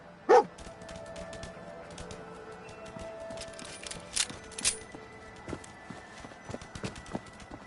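Dogmeat, the dog in Fallout 4, gives a single sharp bark near the start, followed by scattered footsteps and small game sounds.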